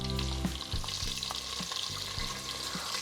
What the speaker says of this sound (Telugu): ఆనియన్స్ యాడ్ చేసుకొని ఫ్రై చేసుకోవాలి.